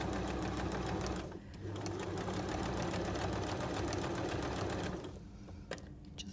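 A sewing machine runs in quick, even bursts, stitching quilt fabric with variegated yellow thread, close and loud, briefly pausing twice before resuming.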